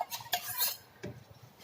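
Rice flour is stirred into hot water in a pot, making a few quick scraping and clinking strokes of a utensil against the metal, close and brief.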